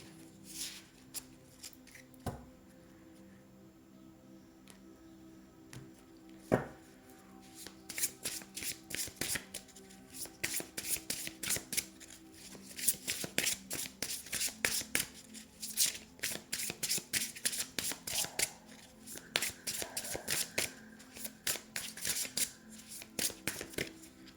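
Lenormand oracle cards are shuffled by hand, starting with sparse soft taps and slides, then building into a long run of rapid, crisp riffling flicks that continue close and steady to the end.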